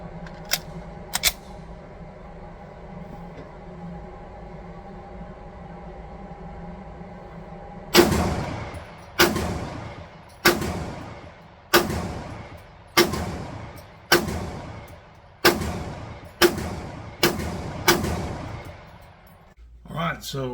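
A BUL Armory Axe Cleaver pistol fires about eleven loud, sharp shots at a short-range outing, evenly spaced roughly a second apart. Each crack is followed by a quick decaying echo after a quiet stretch of low background hum.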